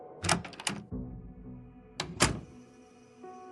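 Kitchen door opening in an audio game, two clusters of close, crisp latch clacks and thuds a couple of seconds apart, followed by a soft low rumble and faint tonal ambience, no talking.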